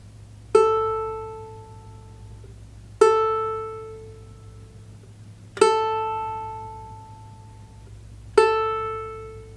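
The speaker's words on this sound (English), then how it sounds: "And finally, the A string. That one sounds like this." Four plucks of a ukulele A string, tuned correctly, ring out one at a time about every two and a half seconds, each bright tone decaying slowly, soft and close with nothing else heard.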